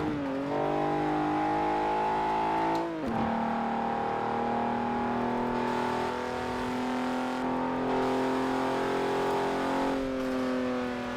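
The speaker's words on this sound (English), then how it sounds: "Nice turbo noises though." Alfa Romeo 155 with a 1000 HP turbocharged engine build, driven in Forza Horizon 4, holding a loud, steady drone that dips briefly with each gear change and then climbs again.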